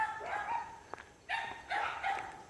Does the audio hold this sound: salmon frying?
no